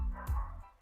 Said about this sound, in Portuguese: vou deixar os cachorrinhos de fundo aí